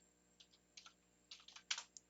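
Quiet, close keystrokes on a computer keyboard while typing HTML, coming in small irregular clusters of taps that grow slightly louder and quicker toward the end, with no talking.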